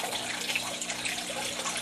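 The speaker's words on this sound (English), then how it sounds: "You see it's got a little bit more of a trickle coming out now." Water trickling steadily out of a net pot about three-quarters full in a basement garden, a soft continuous splashing stream at close range with no talking.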